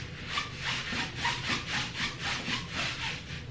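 A post-surgery compression garment swishing as its fabric rubs, a rhythmic series of close, raspy strokes repeating about twice a second with no talk.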